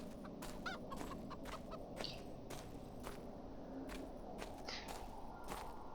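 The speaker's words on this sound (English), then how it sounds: "Chicken." A chicken clucks repeatedly in the video game Arx Fatalis, short clucks scattered over a steady low ambient drone, with faint footstep-like taps, no talk.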